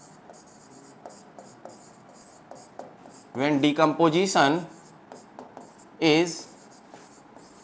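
Chalk or marker scratching across a board in a Class 10 chemistry lesson, making short rhythmic strokes. Someone briefly speaks over the writing partway through.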